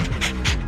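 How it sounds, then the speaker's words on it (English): A dog panting close by in quick, breathy rhythmic huffs, loud and alone. "adorable dog?"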